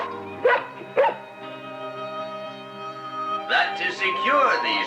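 A dog on a hot day gives two sharp barks, then whimpers and yips close by over a sustained music backing, with a voice talking.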